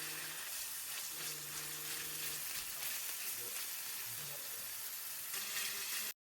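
Ground meat frying in hot oil in a pan, a steady close broadband sizzle running throughout, with faint clinks and a low hum underneath.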